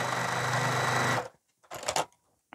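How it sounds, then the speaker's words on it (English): A sewing machine runs steadily, stitching a 1/4 inch seam at a 2 millimeter stitch length for about a second, then stops; brief handling noises follow with no talk. "we're going to sew with 2 millimeter stitch length with a 1/4 inch seam"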